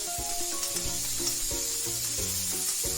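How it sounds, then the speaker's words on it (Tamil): Finely chopped tomatoes sizzle steadily in hot oil with fried onions for a restaurant-style veg kadai, with frequent stirring clatter over a constant close hiss and no talking. "இப்போ நம்ம அதே இதில் தக்காளி ஆட் பண்ணிக்கலாம்."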